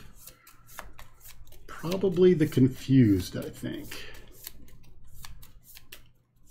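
Playing cards for a Marvel Champions game being shuffled, crisp papery riffling and rubbing bursts scattered throughout under steady close conversational talk.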